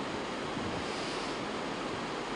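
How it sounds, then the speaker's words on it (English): Wind buffeting a microphone outdoors at a high spot, a steady dense roar of broadband rushing noise with no break, loud and close, no voices over it. "excuse me real quick, a little windy up here"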